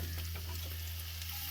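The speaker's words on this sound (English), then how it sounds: "I have some oil heating up there in the pan" Onions sizzling in hot oil in a pan as the base for shakshuka, a steady, even hiss of frying with a low constant hum underneath and no voices.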